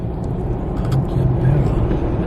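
Car cruising along on an evening drive around Canberra, a steady low engine and road rumble heard from inside the cabin with no clear talk.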